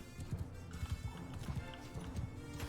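Imperial horses gallop and neigh during a video game battle, with a steady run of clip-clop hoofbeats and an occasional whinny rising over busy background game noise.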